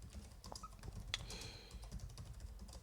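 Quiet keystrokes on a computer keyboard, a few soft irregular clicks with one sharper tap, typed alone in an otherwise calm room.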